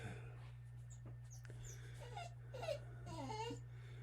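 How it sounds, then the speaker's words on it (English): Zakykins, a pet dog, makes soft whimpering, whining noises, faint and close against a steady low hum, with a few high squeaky yips in the later part. "Yes, you're a good dog."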